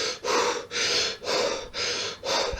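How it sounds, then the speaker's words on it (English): Rapid, forceful hyperventilating breaths in the Wim Hof style, about five loud, close in-and-out cycles in a steady rhythm with no talk. "you kind of like hyperventilate, or it's got another name for it, I forget what it's called, but you kind of breathe in and out loads"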